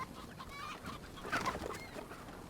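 A chicken clucks in Crysis 2, a few faint, brief clucks over a low background hum, with no talk.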